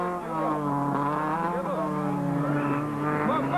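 Rally cars racing, a Volkswagen Polo and a Toyota Corolla, with a loud, sustained engine drone whose pitch rises and falls as the cars rev and pass.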